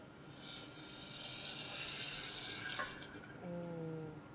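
Boiling water is poured for a cooking class, a steady splashing gush of liquid streaming into a container for about three seconds before tapering off as a brief tonal hum takes over.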